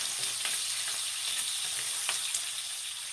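Bacon frying in butter in a pan for cornbread and cabbage, a steady dense hiss and crackle with occasional sharper pops, close and constant throughout.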